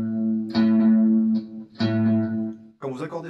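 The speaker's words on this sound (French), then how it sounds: "Écoutez bien cette note à la cinquième case, donc sur la grosse corde." Electric guitar through effects plays the note A at the fifth fret of the low E string, struck twice as sustained, ringing notes, then followed by a brief burst of talking.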